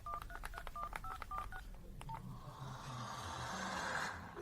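Telephone keypad tones beep in a quick series of distinct DTMF presses as a number is dialed, followed by a soft hiss of line noise; quiet and close.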